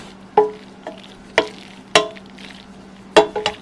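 American chop suey pasta being stirred with a wooden spoon in a pot, several distinct scraping, clacking strokes at an uneven rhythm, close and fairly loud, with quiet gaps in between and no talking.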